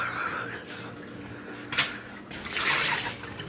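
Water is poured and splashes near a microphone, a steady liquid rush that swells toward the end, with a faint voice in the background.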